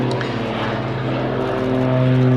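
Aerobatic display aircraft engine at a Little Gransden airshow during a pull to vertical and flat spin, a droning propeller engine with steady harmonic tones, moderately distant and slowly rising, no talk.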